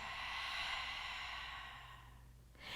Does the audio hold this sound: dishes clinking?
no